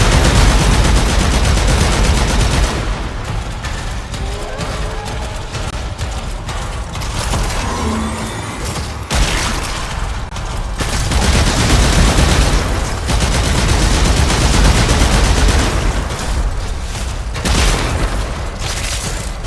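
Loud, sustained weapon fire in the sci-fi shooter Warframe during the Heart of Deimos quest, rapid shots and booming impacts overlapping in dense bursts with brief lulls, close and forceful throughout.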